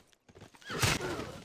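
Scythian horsemen in Civilization VI: a brief burst of galloping hoofbeats leads into a loud, close horse neigh, short and alone without talk.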